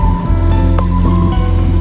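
Heavy stormy rain pours steadily over Karachi in a dense, continuous hiss with a low rumbling undertone and a few brief splashy accents, loud and unbroken throughout, with no voices.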